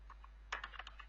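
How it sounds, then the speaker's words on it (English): Quick, light keystrokes on a computer keyboard, a short cluster of close clicks over a low steady hum. "here I'm just typing the function"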